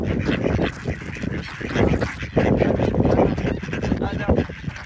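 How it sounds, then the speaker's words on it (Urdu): Ducks on a small snowy lake in Sweden honk and quack loudly as they crowd in to be fed, a close, continuous clamour of overlapping calls with a voice talking among them. "میں بطخوں کے لیے کچھ کھانا لے آیا ہوں، تو وہ ساری جو ہے نا ادھر آ رہی ہیں"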